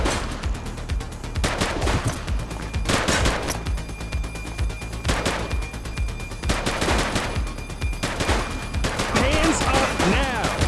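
Police shootout in The Precinct: repeated bursts of rapid gunfire, with single shots and automatic volleys cracking at irregular intervals over about ten seconds, mixed with occasional shouted voices.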